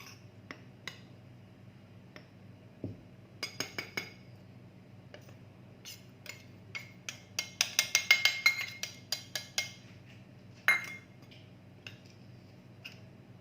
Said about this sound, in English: So I'm mixing the cocoa powder also into it now, so that it gets incorporated.